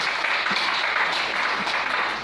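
A church congregation applauds and acclaims the Lord, a dense, sustained wash of clapping from many hands that carries on evenly without a break.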